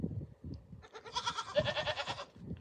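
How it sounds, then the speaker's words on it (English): A goat bleats in one long, wavering, nasal cry lasting over a second, close and fairly loud, with soft rustling and handling noises around it. "Hello, you're a good goat."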